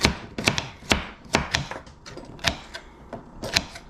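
Knife chopping carrots on a cutting board for beef stew: a run of sharp, close, fairly loud chops in an uneven rhythm, about a dozen strikes with short pauses between them.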